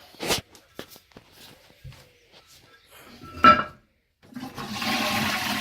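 A dual-flush toilet is flushed after repair: a few clicks and handling knocks first, then a sharp press, a short pause, and a loud sustained rush of water near the end.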